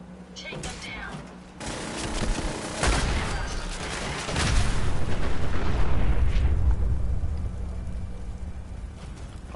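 Gunfire and explosive booms in Fallout 4, a dense loud barrage of shots and blasts rolling over several seconds, with speech mixed in.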